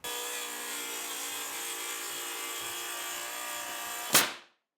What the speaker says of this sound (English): We like to use our Makita rail saw.